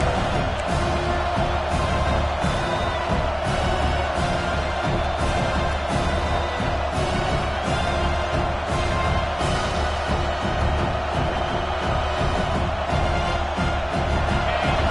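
A home crowd at a football game roars steadily through the stands on a third-down defensive play, a dense sustained wash of cheering and whoops from a large stadium with no clear lulls.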